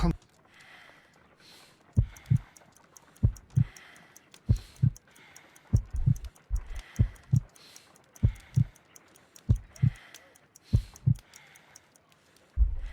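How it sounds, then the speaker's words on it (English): Heartbeat in the video game Sherlock Holmes: Crimes and Punishments, slow paired thumps repeating steadily for about a dozen beats, low and distinct, with a faint ticking texture above. "I need to concentrate and count the heartbeats."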